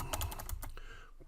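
Quick run of computer keyboard keystrokes as a website address is typed, about a dozen close, crisp clicks in an uneven burst that tapers off, with no talking.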